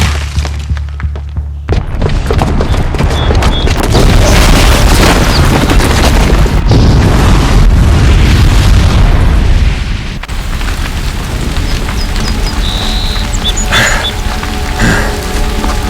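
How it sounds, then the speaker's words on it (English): A bomb explodes in Horizon Zero Dawn with a huge booming blast, followed by sustained loud rumbling and debris roar that gradually thins into lighter crackling and falling rubble. "the booby trap on the bomb downstairs is gonna get set off"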